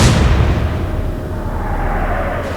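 A naval gun salvo in the Atlantic Fleet game, Battle of the Atlantic, British side: one loud, close boom at the start, decaying into a long rumbling tail.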